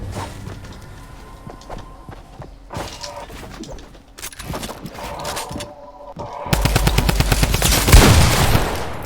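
Drum gun firing in a mobile video game: rapid, continuous bursts of automatic gunfire that turn noticeably louder and denser toward the end, with scattered clattering impacts in between.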